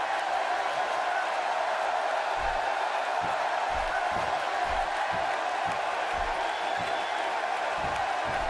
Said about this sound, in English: A raucous crowd on hand tonight for Money in the Bank.